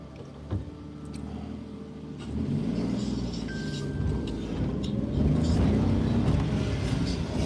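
Steady road traffic noise of cars driving past and idling in congestion, a continuous engine rumble that swells gradually louder, with no talk over it.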